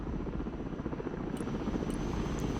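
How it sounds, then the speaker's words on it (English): A helicopter in the modern-warfare strategy game Broken Arrow thrums with a continuous low rotor rumble, steady and fairly close, with a few faint high beeps and no voices. "We should be able to call in a helicopter now with tons of support."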